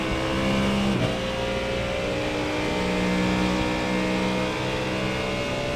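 Loud, sustained engine roar of a Porsche GT3 race car in iRacing at the Nurburgring GP, holding a steady high-revving drone with shifting pitch and a brief gear-change dip, no talking.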